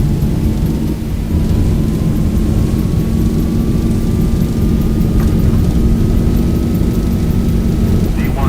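Airliner engines at takeoff thrust in the X-Plane 12 flight simulator, a loud, dense roar filling the whole stretch with a slowly rising whine above it, steady and close with no letup.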